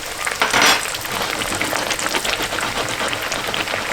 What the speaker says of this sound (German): somit werden wir eins nach dem anderen richtig schön frittieren